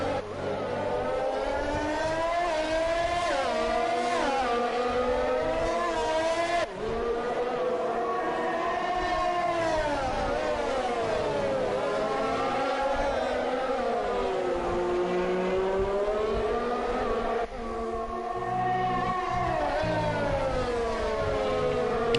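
F1 race cars in a video game on the Abu Dhabi Grand Prix circuit, engines whining continuously with pitch swooping up and down through gear changes and corners, loud and unbroken with no talk.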